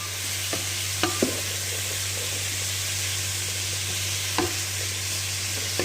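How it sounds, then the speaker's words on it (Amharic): Peas fry in a pan with spices and garlic, giving a close, steady sizzle broken by a few sharp stirring clicks and scrapes. "እንደምትመለከቱት አተሩን ነው እየጠበስኩት ያለው።"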